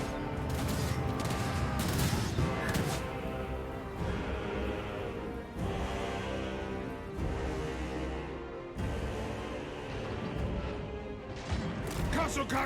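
Loud, dense gunfire crackles through a Warhammer video game battle, bursts of volleys and crashing impacts layered thickly and continuously, with players talking over the din.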